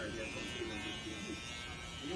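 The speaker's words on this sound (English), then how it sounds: "right here we started doing the ball line with the Babyliss trimmer" A Babyliss hair trimmer buzzes steadily during a taper haircut, a continuous close electric hum with talking over it.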